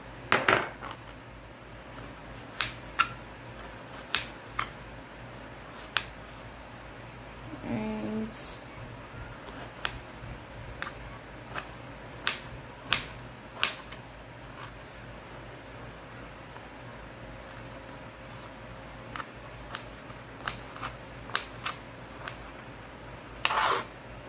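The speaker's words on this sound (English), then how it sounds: "Next, I'm going to cut up half an onion and 1 pimento." A kitchen knife slicing half an onion and a pimento on a cutting board, giving a steady series of sharp, close taps at uneven intervals, with a faint voice partway through.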